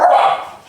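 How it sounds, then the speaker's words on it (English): A single short, high-pitched yelp-like bark from a puppy, close and loud, fading quickly. "The puppies are just like going to town with their barks today."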